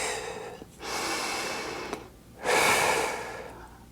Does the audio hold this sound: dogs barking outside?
no